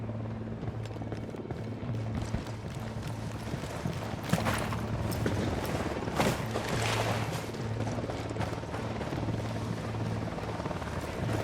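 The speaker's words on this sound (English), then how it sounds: "Helicopter incoming." A helicopter in the game Ghost Recon Wildlands drones with a steady rotor thump that holds throughout at moderate loudness, with faint game sounds scattered over it.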